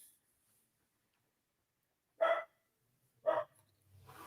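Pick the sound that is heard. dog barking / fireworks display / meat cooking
dog barking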